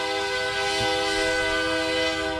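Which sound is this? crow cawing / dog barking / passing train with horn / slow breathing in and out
passing train with horn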